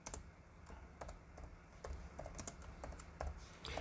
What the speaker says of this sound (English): Let me just type it.